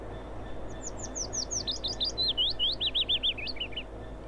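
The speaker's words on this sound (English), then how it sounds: "These birds are set to annoy me." Birds chirp in the ambience of a train simulator game set on the Acton mainline to Stratford, a string of quick, bright tweets and warbles rising in density over a soft background hum.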